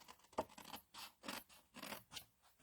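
Scissors cut paper around a stamped card, making a string of soft, close snipping and rasping strokes at an uneven pace, all fairly quiet with no talking.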